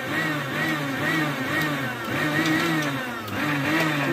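Mixer grinder pulsing cream into homemade butter, a loud motor whir in several short bursts that rise and fall in pitch with brief pauses, no voices.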